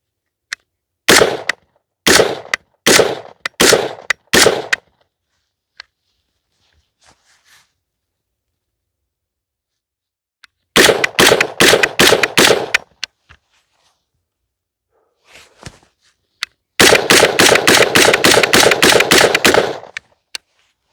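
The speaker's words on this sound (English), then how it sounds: "see how this BCM Recce 16 actually handles its first shots through the rifle" BCM Recce 16 AR-15 rifle firing its first rounds, loud sharp shots in rapid clusters of four to five, then a second string and a final fast burst, separated by quiet gaps with faint handling noises.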